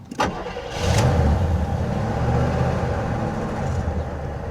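A 1979 Cadillac Coupe DeVille, parked for 27 years, cranks with a brief click and catches, its engine rumbling loudly into a rough, steady idle close by; no talking.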